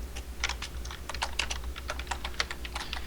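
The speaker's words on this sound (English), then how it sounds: "Companion's just typing away" Quick, busy typing on a computer keyboard, a dense run of crisp key clicks over a low steady hum, close and clear with no talking.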